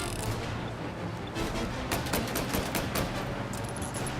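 Gunshots in Mafia: Definitive Edition crack out from a six-round revolver during a shootout while driving, several sharp reports in an uneven sequence over a constant loud engine and road roar.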